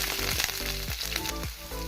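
Sliced onions sizzle steadily in hot coconut oil with popped mustard seeds and curry leaves for a cowpea curry. The frying is loud, close and continuous, with brief stirring scrapes throughout.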